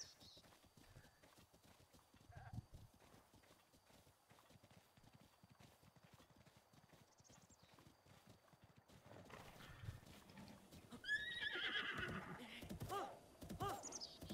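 Horses in the game Breath of the Wild: hooves clip-clop steadily at a distance, followed by a neigh and louder snorting and movement near the end, with faint talk underneath.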